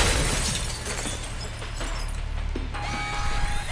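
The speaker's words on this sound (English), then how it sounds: "But you might be able to find a way to break the glass." Glass shattering in the Alpha Protocol video game, a loud dense crash of breaking glass and debris that rings on briefly, with a steady tone entering near the end, no talking.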